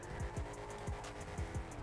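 Gauntlet muscle car in GTA 5 revving its engine, a repeated rising-and-falling growl with several quick throttle blips at a steady rhythm, close and moderately loud with no talking.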